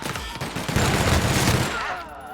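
Rapid automatic gunfire from a weapon in The Outer Worlds, a dense loud burst of shots lasting about two seconds before tailing off, with no talk over it.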